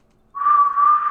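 A voice imitates breath whistling out through a rib tube in a wound, a single thin, steady, fairly loud whistle that starts abruptly and holds for under a second.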